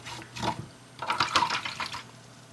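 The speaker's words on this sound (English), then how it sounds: "So I'm going to wash this brush out." A paintbrush being rinsed in a water container while acrylic painting, with splashy swishing and sloshing in two short bursts, close and fairly clear, with no talking.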